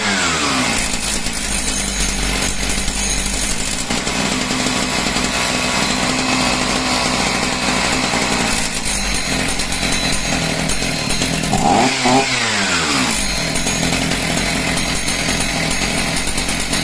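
A Husqvarna 61 chainsaw, being started after trouble running, roars continuously at high revs, loud and close, with a brief dip and rev change partway through; no voices.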